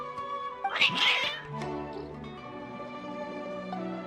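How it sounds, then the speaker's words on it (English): Agitated cats meowing and caterwauling in the video game Genshin Impact, a burst of overlapping yowls near the start that settles into quieter drawn-out cries over a game music bed. "Your cats seem pretty worked up."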